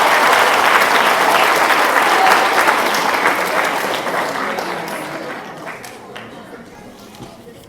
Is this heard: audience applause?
yes